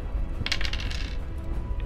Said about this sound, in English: I will now roll 2d6